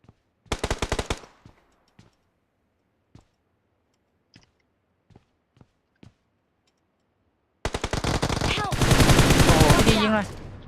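Gunfire in PUBG Mobile, with a short rapid burst, then scattered single shots, then a long sustained automatic burst close and loud, with faint talk mixed in.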